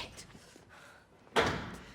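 A door slams shut in a tense film scene: a single sharp, loud bang near the end, ringing briefly after faint background murmur.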